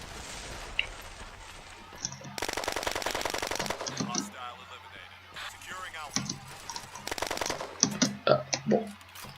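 Rapid automatic gunfire from the video game Red Crucible Firestorm comes in several sustained bursts with scattered single shots between them, set over a voice talking and background game sounds.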